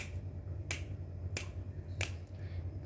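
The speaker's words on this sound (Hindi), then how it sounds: "चुटकी बजानी है।" Three crisp finger snaps, evenly spaced about two-thirds of a second apart, close and clear over a soft background hum.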